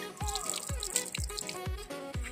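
A drinking water tap at a college runs with a steady splashing flow, punctuated by rhythmic drips or gulps hitting close by, bright and fairly loud with no talk.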